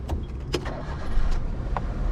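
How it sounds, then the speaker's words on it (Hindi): A manual-transmission car's engine turning over and catching, with a brief starter burst then a steady rumble close by, no talk over it. "चलो हम गाड़ी स्टार्ट करते हैं।"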